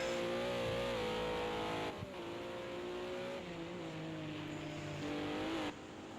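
A race car in a racing video game laps the Red Bull Ring, its loud, close engine whining at high revs. The pitch climbs and drops through gear changes and corners, with no voices.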